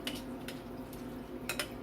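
Pasta bake mixture scooped and scraped into an oiled baking dish, a few close clinks of a spoon against the dish over soft, wet shuffling, quiet and brief, with no talking.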